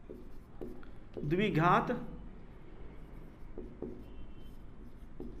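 A teacher writes an equation on a board, with faint scratchy chalk or marker strokes running under steady classroom speech.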